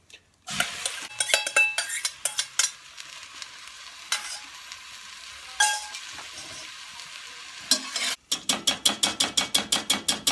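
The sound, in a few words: bean mix put into a cast iron camp oven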